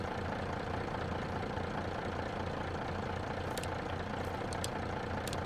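John Deere 710 tractor engine from Farming Simulator 22, fitted with a side exhaust, running at a steady idle with a constant low rumble and a few faint clicks near the end.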